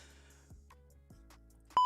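A phone gives a short, sharp electronic beep near the end, preceded by a few soft clicks and low handling noise.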